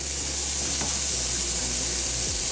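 Vegan breakfast sizzles steadily in a hot pan as seasoning is sprinkled over it, a continuous close frying hiss with no talking.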